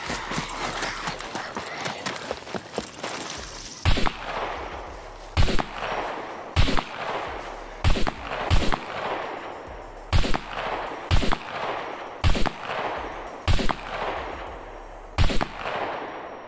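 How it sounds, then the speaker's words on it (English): Gunfire in the survival game SCUM: a sharp, loud single shot followed by a steady series of single shots and quick double shots spaced about a second apart, echoing against a quiet outdoor background, no talking. "I can't leave without, you know, shooting the gun."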